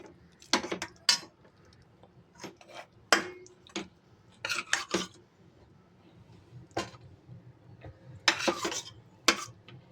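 Moringa leaf chicken curry being stirred in a pan and spooned onto a plate, with a scattered series of sharp metal-on-pan and utensil clinks and scrapes over a low background hum.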